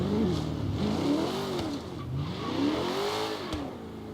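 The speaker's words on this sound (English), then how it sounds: "Let's just sit and appreciate the idle sound." A Chevrolet Nova engine in Forza Horizon 3 sits at idle with a deep, lumpy burble, its pitch gently rising and falling in slow waves, steady and close with no talking.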